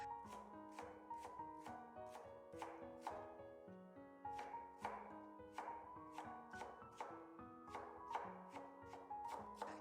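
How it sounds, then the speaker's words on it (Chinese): A kitchen knife chops blanched mustard greens on a cutting board, striking in a steady, even rhythm of quick, crisp knocks heard close and clear with no talking. "用刀切碎。"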